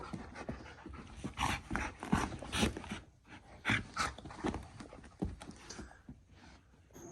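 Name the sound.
dog being walked on a wet floor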